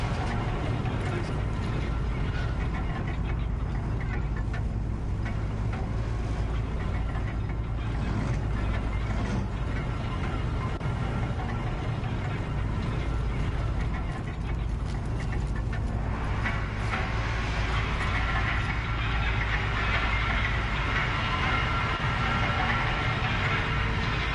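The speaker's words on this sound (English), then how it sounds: "Big, long elevator." A big, long elevator in the video game Horizon Zero Dawn grinds upward with a loud, continuous mechanical rumble, laced with ratcheting clanks and a rising hiss partway through.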